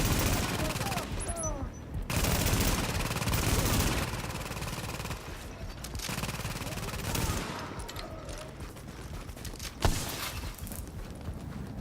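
A turret firing in a PvP survival video game, heard as repeated bursts of rapid gunfire separated by short pauses, with other battle noises and clattering around it.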